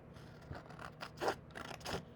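Scissors cut along the fold of folded paper in several separate snips, close and crisp, with no talking.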